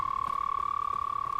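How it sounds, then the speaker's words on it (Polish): A frog creature in the Hogwarts Legacy video game croaks in a rapid, steady pulsing trill held at an even pitch, close and alone with no talk. "jakieś żaby śmieszne"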